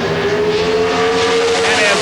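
Pro Stock drag cars, including Bob Glidden's Oldsmobile, racing down the strip at the 1989 NHRA Springnationals in Columbus, Ohio, a loud sustained engine howl with rising whine and dense roar.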